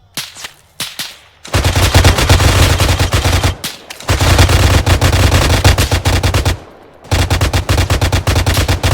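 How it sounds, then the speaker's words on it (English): Sustained automatic gunfire from Arma 3, loud and close, rattling in long unbroken bursts separated by brief pauses, with no talking over it. "are those shots firing right across the way here?"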